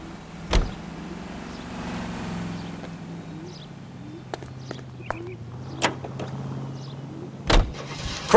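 A car driving in the video game L.A. Noire, with a low steady engine hum under a few sharp thuds and clicks, including two louder knocks near the start and the end.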